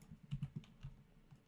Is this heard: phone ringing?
no